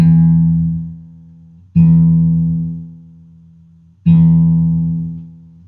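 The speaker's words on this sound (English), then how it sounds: "So I'll hit that string, I'll turn this tuning key and just listen until I think it's around an E." An acoustic guitar's low E string is plucked three times, each note ringing out and slowly decaying while the tuning key is turned, solo with no voices.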